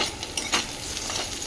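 Potato pieces with chopped green chilli fry in hot oil with a steady close sizzle, broken by a few soft stirring scrapes of a utensil against the pan.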